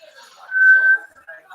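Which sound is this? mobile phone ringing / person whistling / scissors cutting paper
person whistling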